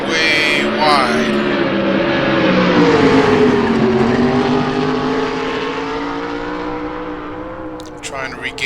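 A heavy BMW race car engine on the Nordschleife in a Gran Turismo racing game, a loud sustained drone whose pitch rises and then slowly falls as the car comes off and back onto the throttle, with a faint voice underneath.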